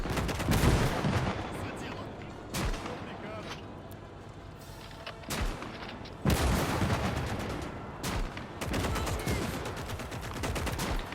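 Gunfire and artillery crackle through a late-war battle in the WW2 game Gates of Hell: Scorched Earth, with sharp rifle and machine-gun bursts punctuated by several loud booming impacts over a continuous rumbling background.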